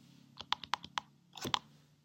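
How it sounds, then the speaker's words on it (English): Hard, uneven typing on a computer keyboard, a quick run of sharp clacks followed by a brief pause and a heavier cluster of keystrokes, close and distinct over a quiet room. "Sorry for the slamming on the keyboards"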